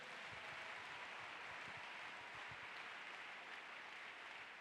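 A church congregation applauds and cheers in praise of the Lord, a dense, steady wash of clapping from many hands filling the room at moderate volume without letup.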